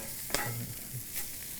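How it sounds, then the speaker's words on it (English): Corn kernels sizzle and char in a pan as a stirring utensil scrapes through them, with one sharp clack and a soft continuous hiss underneath. "So it chars really beautifully whenever you leave it in a pan for a minute."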